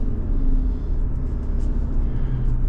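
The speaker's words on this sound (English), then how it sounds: "we're on the road in this 2023 Subaru Outback Touring XT" A 2023 Subaru Outback Touring XT cruises along a road, its steady low engine and tyre rumble filling the cabin continuously without pause.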